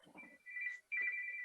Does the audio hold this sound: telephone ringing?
yes